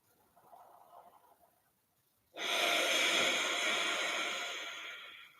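Long, deep breathing during a Kundalini yoga relaxation practice: a soft, quiet exhale first, then a loud, sustained rushing breath that starts abruptly and stays steady to the end, close to the microphone, with no talking.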